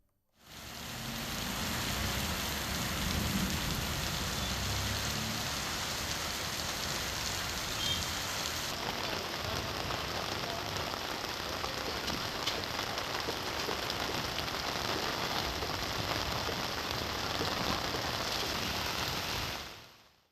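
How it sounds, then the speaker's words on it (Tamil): Heavy rain pours down during a thunderstorm, a dense, steady broadband wash of falling water that lasts throughout, fairly soft and far, with no voices. "இடி மின்னலுடன் கனமழை பெய்தது"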